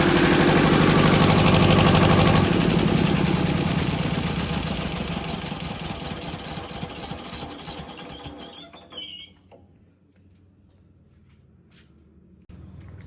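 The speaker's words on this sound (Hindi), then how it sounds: "चलते हैं नीचे, जनरेटर को बंद करते हैं" A generator runs loud and steady for several seconds, then winds down and cuts out, leaving near silence.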